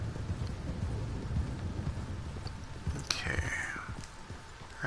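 Rain falls steadily in a Red Dead Online thunderstorm, a low continuous hiss with a soft rumble, broken midway by a sharp crackling lightning strike.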